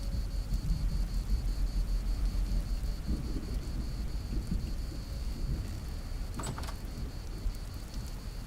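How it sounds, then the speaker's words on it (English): Steady rain and low rumbling thunder fill a temporal storm in the video game Vintage Story, with a constant wash of rainfall, deep rolling booms near the start and a sharper crack about two thirds through. "First temporal storm."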